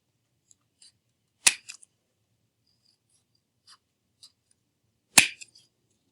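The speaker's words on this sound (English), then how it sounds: "You're going to cut off just these tips. And then keep cutting until it's kind of a circle, even an oval shape." Scissors snip through paper as the tips of a cutout shape are trimmed toward a rounded oval, two crisp sharp cuts a few seconds apart with faint rustles and small clicks between them in an otherwise quiet room.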